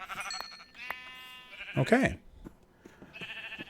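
Sheep in a video game bleat a few times, wavering and fairly close, with one louder, drawn-out bleat in the middle and a brief spoken word near the start.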